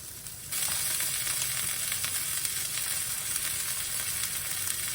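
Taco shells heating on a hot griddle, a loud, steady sizzle that kicks in sharply after half a second and holds evenly to the end, close and with no voices.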